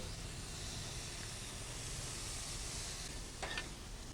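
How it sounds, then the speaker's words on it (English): Burger patties sizzle on a preheated outdoor grill, giving a continuous broad hiss at moderate loudness with a brief crackle near the end. "I have my grill preheated and now I'm going to put my burgers on."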